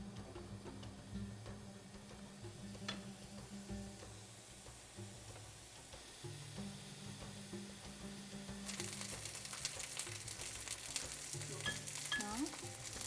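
Iraqi basterma sausage sizzles and fries in its own released oil in a pan, a steady low crackle that grows brighter and louder toward the end, with no voices.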